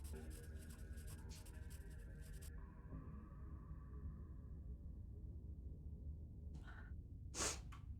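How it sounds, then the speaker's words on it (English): A pencil scratches across paper as a portrait is drawn in Scarlet Hollow, faint scratchy strokes under soft sustained musical tones, with a couple of brighter swishes near the end. "He continues scratching out your portrait, the sound of pencil and paper louder and bolder as his strokes gain confidence."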